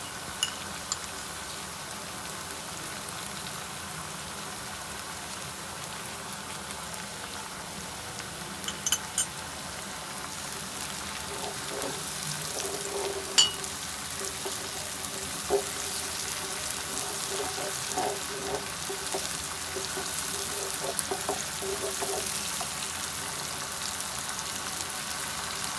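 Ground ginger and garlic paste fries with onions in a pan, giving a steady close sizzle that runs without a break, with occasional faint clinks and stirring sounds.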